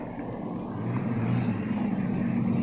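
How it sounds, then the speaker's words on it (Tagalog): A car passing along a city street at night, heard as a steady engine and tire rumble that swells slightly as it goes by, with no voices. "hulat-hulat kay may sasakyan"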